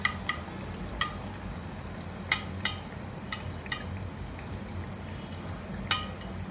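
Anarse sweets fry in ghee with a soft steady sizzle, broken by a few sharp crackles and pops spread through the clip.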